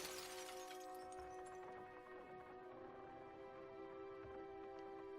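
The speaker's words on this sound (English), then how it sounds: "His face shatters and falls to the ground." Shattering of the collector's face in the video game Dredge, a bright crash of breaking fragments at the start that tails off under a sustained, droning eerie tone.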